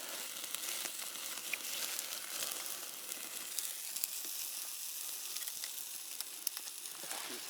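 Food sizzles steadily over a campfire flame in a forest at night, a continuous close crackling hiss with small pops scattered throughout and no voices.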